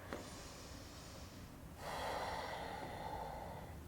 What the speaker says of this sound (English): 1 last big breath